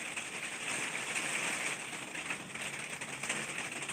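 Rain starting to fall outdoors, a steady broadband hiss of drops with faint pattering texture, continuous and fairly close, no voices.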